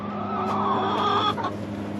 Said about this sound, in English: Well, I got a chicken.